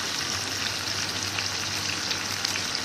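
Chicken chukka frying steadily in a pan after green coriander is added, a continuous close sizzle and crackle with a low hum underneath and no talk.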